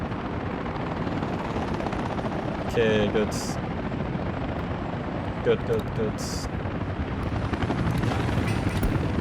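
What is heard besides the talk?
helicopters fighting a fire in video game Workers & Resources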